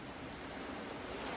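Ocean waves wash steadily against the shore in a continuous, broadband surf roar. Wind adds to the rush, and no voices are heard.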